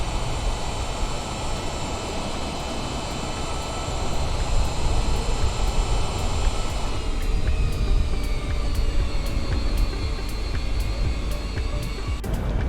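An American 787 airliner rolls on the runway in a flight simulator during a storm with 70 mph winds, its thrust reversers roaring as a steady, loud, broadband jet rush with rising whine, continuous and alone.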